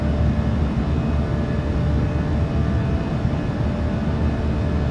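Steady, dense roar of a PMDG 737-700's jet engines at climb power in Microsoft Flight Simulator 2024, constant and loud throughout with no voices.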